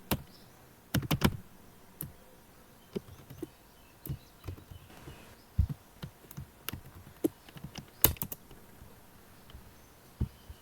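Sparse, irregular clicks of keys on a computer keyboard while C# code is entered in a textbox-clearing tutorial, each tap short and close, with pauses between small bursts.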